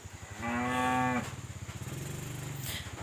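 A single drawn-out cow moo from farm cattle, fairly near and moderately loud, followed by a low droning rumble.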